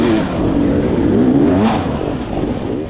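Racing cars accelerating off the start of a tough six-hour race: a loud, close, continuous engine roar with rising and falling revving pitch and no voice over it.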